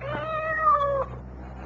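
A single drawn-out cat meow, close and clear, rising then falling over about a second, set in a Cat's Paw shoe-heel radio advertisement from a 1975 NBC World Series broadcast, with a low hum underneath and no talking.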